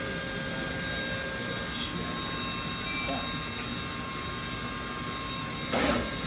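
A Juki RS-1R pick-and-place machine runs a dry cycle with no feeders loaded, giving a steady mechanical hum and whir with a few brief faint clicks and a louder burst of motion near the end.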